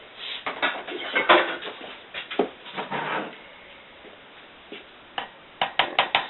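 Lye being stirred into oils for a fern soap, irregular clinks and scrapes of a utensil against a container in short bursts, separated by quiet pauses, close and without talking.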